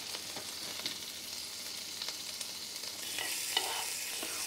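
Shrimp browning in a pan with olive oil or butter give a steady, close sizzle with occasional light scrapes and stirring clicks throughout.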